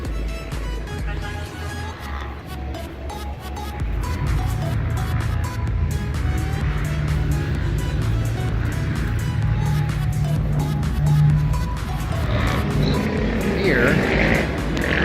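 A classic truck on racing slicks drives down a track at a motorsports park with a continuous engine drone, fairly loud and steady, swelling slightly partway through, while a person talks over it.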